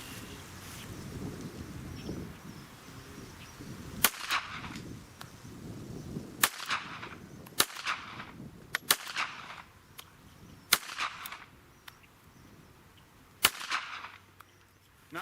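A Ruger LCP II .380 pistol fires several sharp, separated shots, each crack followed by a rolling outdoor echo, with irregular gaps and faint wind noise between them.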